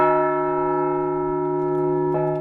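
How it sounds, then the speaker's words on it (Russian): A memorial bell rings in D minor, one sustained tone with strong steady harmonics, loud and close. It hangs evenly and fades only slightly, and a second faint strike enters near the end. No voices. "гости прошли к поминальному колоколу и стали свидетелями удивительного звона «Ре минор»"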